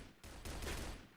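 Gunfire in a competitive shooter video game, a quick burst of several shots fired in rapid succession, fairly faint and distant, lasting only about a second.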